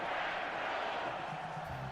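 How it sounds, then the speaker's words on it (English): A football stadium crowd cheering its team on produces a broad, steady roar of many voices at an even, fairly loud level with no break. "Crowd trying to will their team on."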